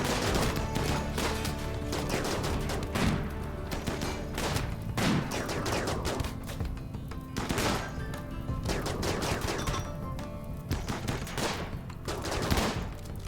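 A chain shotgun fires in RimWorld, loud rapid blasts arriving in repeated bursts across the whole stretch, with sharp cracks standing out among the dense gunfire and no voices.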